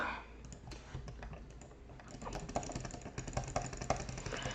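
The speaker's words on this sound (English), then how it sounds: "Let's just get back to it with my insane clicking" Rapid clicking in a Scratch clicker game, a fast, irregular stream of sharp clicks growing denser and louder toward the end, heard alone without talk.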